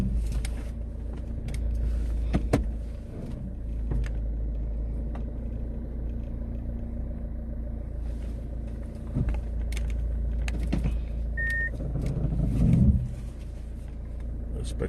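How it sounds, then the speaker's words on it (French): A car engine rumbles at low idle while the car is turned around, with faint clicks and bumps and a swell of motor noise near the end. "je vais tourner la voiture parce que le soleil est en train de me déranger"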